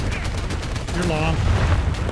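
Gunfire in the War Thunder video game: a dense, steady wash of shots and explosive thumps runs throughout, with a brief tonal whine midway, fairly loud and close, with voices mixed in.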